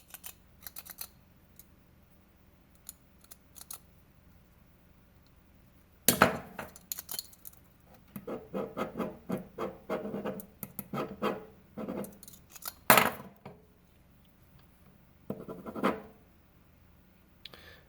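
A pen assembled from a click cigar kit scratches across paper in short bursts of quick strokes, with a couple of sharper clicks and knocks, close and quiet, with long pauses between and no talking.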